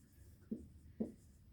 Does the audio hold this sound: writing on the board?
yes